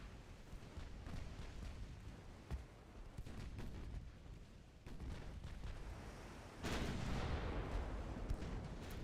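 Battleship guns firing in a naval video game, a series of deep booming shots under a rumbling background, growing heavier and louder toward the end, with no talk.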